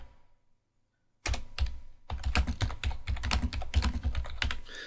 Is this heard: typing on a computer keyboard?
yes